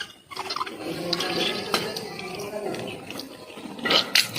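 Water splashes and trickles during the mouth-rinsing step of wudu, with close gurgling bursts near the start and end and someone talking in between.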